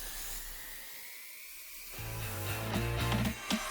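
Rough rock is ground flat on a grinding wheel to make a cabochon. A high whine hums alone, then the sharp, buzzing, grinding rasp of stone on the wheel takes over, loud and close, in uneven bursts.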